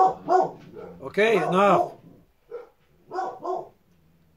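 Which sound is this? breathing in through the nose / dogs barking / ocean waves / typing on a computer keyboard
dogs barking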